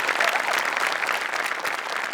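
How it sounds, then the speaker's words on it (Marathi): Steady clapping from a TV comedy show studio audience after a performance, loud and continuous throughout with no breaks. "म्हणजे बनेसाठी टाळ्या."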